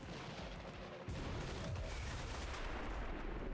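Gunfire in XCOM 2 rings out as a dense, heavy blast of rumbling shots and booms, loud and continuous through a noisy battle scene, with no voices.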